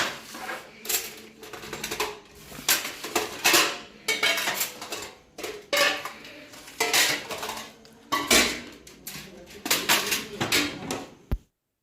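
Metal spoons scraping and clinking against plates and pots as freshly cooked biryani is dished out at a home gathering, an irregular run of close clatter and knocks ending in one sharp clack.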